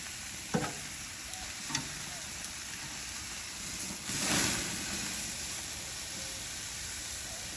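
Fajita meat crackles and sizzles on a grill as it is flipped, a steady fairly quiet hiss with a couple of sharp clacks from the tongs and a brief louder surge when the meat is turned.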